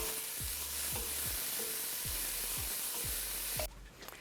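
Food sizzles steadily in a hot pan while a spoon scrapes through it in a regular rhythm, about two strokes a second, while cooking a Mexican chicken chilli; the sizzle cuts off abruptly near the end.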